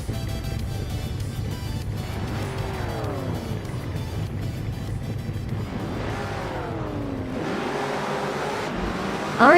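Race cars starting a video game race at Circuit Gilles Villeneuve: a steady engine roar throughout, with rising revs and whining passes layered on top, growing louder toward the end.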